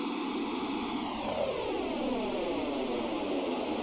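A player-built plane in SimplePlanes 2 drones loudly with a steady engine roar and faint whistling tones that slowly drift in pitch. The sound is continuous and close, with no voices.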